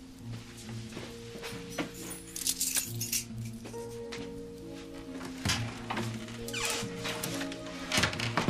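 A bunch of keys jingles and clinks several times in short metallic bursts at Bertram's Hotel, heard nearby over a sustained musical background.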